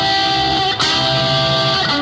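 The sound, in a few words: guitar bend, G string at 7th fret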